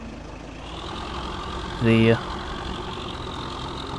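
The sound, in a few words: tractor engine idling in video game Farming Simulator 15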